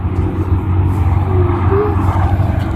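A vehicle on a nearby desert highway outside Riyadh gives a steady, loud, low rumble that holds through the whole stretch, with a faint tonal whine rising briefly partway through.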